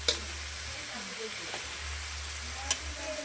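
Fish frying in hot oil for escabeche sizzles in a steady, close hiss that runs throughout, with a few sharp clinks of utensils and faint voices behind.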